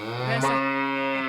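A man imitates a male buffalo's moo on a comedy stage, holding one loud, low, sustained droning bellow with a buzzy, harmonic tone that stays steady for over a second.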